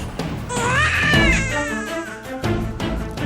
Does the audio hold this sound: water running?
no